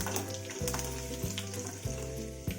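Mustard seeds, cumin, asafoetida and curry leaves crackle in hot oil with a dense, continuous sizzle close up, broken by a few soft periodic thumps, and no one speaks.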